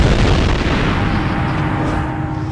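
A supernova explosion rendered as a deep, continuous rumbling roar that fills the whole clip at high loudness, dense low-end booming with no distinct separate blasts and no voices.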